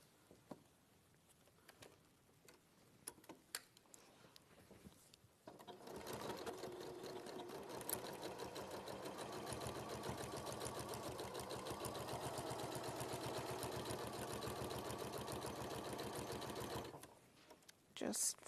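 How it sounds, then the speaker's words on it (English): A sewing machine stitches across a back slip pocket, running steadily for about eleven seconds with a rapid, even mechanical whir, preceded by scattered clicks and handling noises and stopping abruptly near the end. "you're just going to sew 1/4 inch across and reverse your stitch at the start and at the end"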